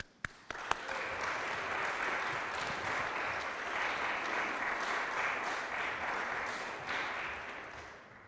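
Audience at a college honor society induction ceremony applauding a keynote speaker, a sustained wash of clapping that starts after a few sharp claps, holds steady and fades near the end.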